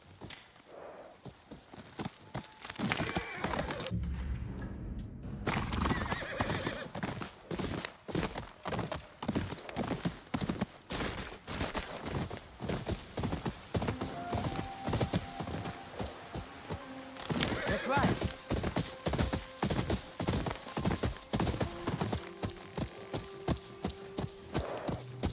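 Horse hooves clip-clopping steadily at a fast pace while riding through a graveyard in the video game Ghost of Yotei, a continuous rhythmic pounding with no clear neigh.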